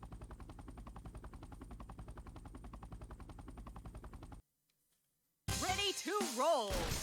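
Rapid gunfire from the Four Flasks video game: a fast, even run of repeated shots for several seconds, then a sudden cut to silence, followed by louder, brighter game sounds.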